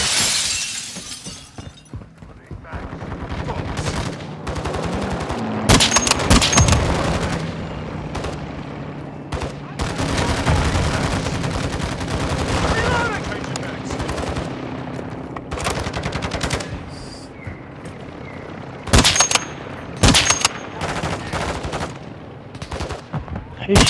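Gunfire in the Modern Warfare 2 video game: repeated sharp bursts of automatic shots and single cracks, some with glassy shattering, loud and close over a rumbling battle background.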